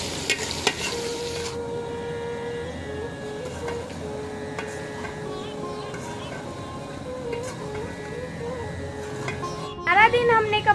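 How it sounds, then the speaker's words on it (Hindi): Onion and garlic fry in oil for chicken pulao in a home kitchen, a steady soft sizzle with occasional stirring clinks of a utensil against the pot, ending in a louder clatter. "चिकन पुलाव बनाने के लिए अम्मी ने जो है प्याज और लहसुन डाल दिए है ऑयल में"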